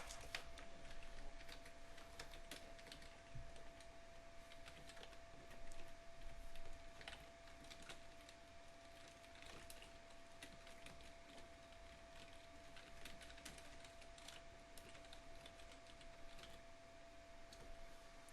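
Code is typed on a computer keyboard: soft, continuous key clatter with scattered sharper taps, quiet and close, with no talking.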